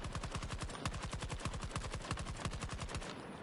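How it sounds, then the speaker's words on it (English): Rapid automatic gunfire in the shooter game Battlefield 2042 rattles in a fast, even burst of shots, loud and near, running almost nonstop before cutting off at the end. "I'm being shot at, but I'm reloading!"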